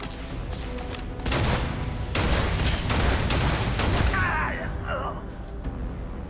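Gunfire in the video game Starfield: dense bursts of loud shots in rapid clusters, tapering off toward the end, with a faint voice-like sound near the close.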